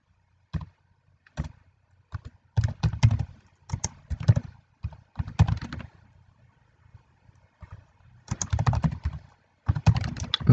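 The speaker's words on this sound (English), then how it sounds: "I'm gonna type its password." A password being typed on a computer keyboard, with bursts of close, crisp key clicks separated by short pauses, quick clusters of keystrokes coming in irregular runs alone in a quiet room.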